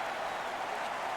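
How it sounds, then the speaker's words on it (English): Loud, dense crowd roar and cheering from a hockey arena in Vancouver in NHL 19, a steady broadband wash with no breaks and no clear voices standing out. "Oh, the Vancouver crowd is loud, baby."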